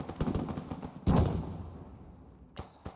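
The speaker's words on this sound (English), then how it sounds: "There's AK fire in that direction." Rifle fire during squad training, with scattered distant pops, then one louder sharp shot and a decaying echo, followed by two more faint shots spaced apart.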